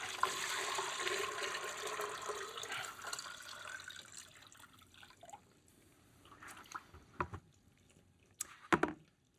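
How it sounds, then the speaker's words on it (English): Water pours steadily into a model dam reservoir of the Catskill Aqueduct, a rushing wash that fades after a few seconds into scattered close drips and splashes. "what I'm going to do is fill the reservoir, and with the outlet works open, we'll see how water is transmitted"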